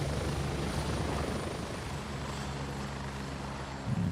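A helicopter flies overhead in the video game Gray Zone Warfare, making a steady, dense rotor chop and engine roar that holds at an even level throughout, with no speech.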